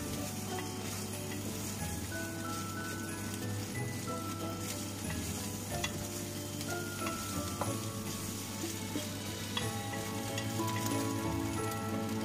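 Scrambled eggs and sausages fry in a pan, a continuous soft crackling sizzle with faint scattered pops and a low steady hum underneath throughout.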